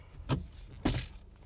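Car keys jangle twice in quick succession as they are turned in the ignition to switch the car on, close and fairly quiet in a still interior.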